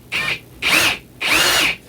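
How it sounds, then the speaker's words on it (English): A cordless drill driving into the wood of a Thanksgiving tray in three short, whining bursts with brief pauses between them, close and loud. "I'm going to take my cordless screwdriver and my drill"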